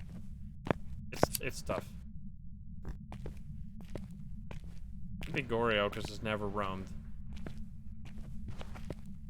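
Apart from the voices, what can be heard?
ghost footsteps in video game Phasmophobia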